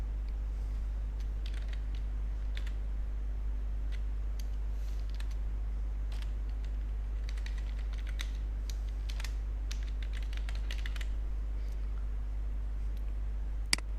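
Email address being typed on a computer keyboard at a sign-in screen, a steady run of soft, quick key clicks over a constant low hum, fairly quiet and close, with no voice.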